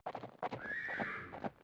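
In the Tomb Raider video game, horses whinny in a rising, drawn-out neigh, mixed with snorts and a few hoof clops, all in under two seconds and close by.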